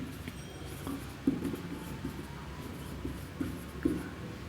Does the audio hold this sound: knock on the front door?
no